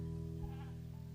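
A goat gives a short, hoarse bleat over steady low background hum, heard once and fairly faint.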